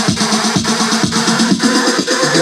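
Electronic dance track played on a Pioneer DJ controller with a filter effect sweeping over it, a loud steady beat with pulsing bass thumps and a swirling, shifting upper tone.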